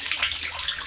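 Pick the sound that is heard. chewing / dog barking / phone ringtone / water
water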